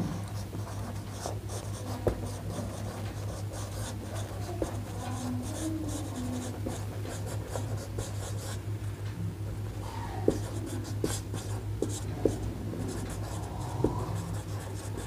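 Pen writing out the working of an arithmetic progression problem for a class 11 maths lesson, with steady scratchy strokes and brief taps close up, continuing alone over a low constant hum.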